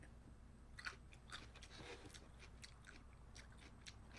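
Someone eating kimchi in a mukbang, with quiet, close, wet crunchy chewing and a few sharper bites spread over several seconds, no talking.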